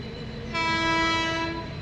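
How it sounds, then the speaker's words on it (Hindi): A train horn sounds in a long steady blast over the low rumble of railway cars, a train approaching on the line between Charbagh and Dilkusha cabin in Lucknow, loud and close for about a second. "तो यहाँ पर आप देखिए कोई ट्रेन आ रही है"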